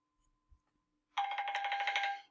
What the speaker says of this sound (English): My phone is ringing.